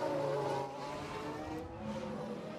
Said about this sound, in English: Oh, a nasty crash there.